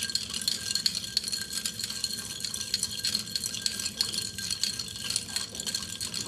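Ice cubes in water being stirred, giving a steady stream of faint clinks and rattles against the container, with soft watery swishing underneath and no talking.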